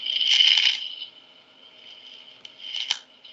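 A needle passing through a soft structure, picked up by a SURAG sensor at a live demonstration, rendered as a steady high-pitched tone with a loud crackling burst early on and a few softer clicks afterward.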